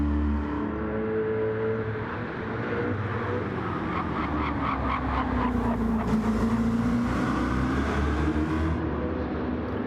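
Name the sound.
Corvette V8 race car engine in a racing video game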